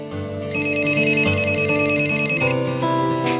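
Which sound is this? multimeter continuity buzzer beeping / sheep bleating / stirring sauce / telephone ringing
telephone ringing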